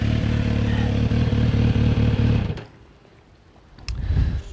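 Kawasaki Z900RS motorcycle idling with a deep, bassy, evenly pulsing engine note that cuts off abruptly midway, leaving near silence before a brief clattering rustle.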